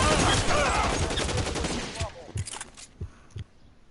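A Thompson submachine gun battle in the 1940s crime game L.A. Noire: rapid automatic bursts crackle loudly at first, then thin out into scattered single shots and fading echoes.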